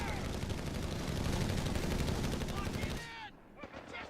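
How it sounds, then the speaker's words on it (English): Rapid machine gun fire in Company of Heroes 3, a dense rattling stream of bursts over game battle noise for three seconds before it cuts off, leaving scattered faint shots and whistling sounds. "MG spam"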